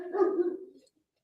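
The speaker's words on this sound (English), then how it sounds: "we had to get a few barks in from Milo" Milo the dog lets out a single drawn-out bark that sounds close and fairly loud, fading into a brief whimpering tail. No talk is heard.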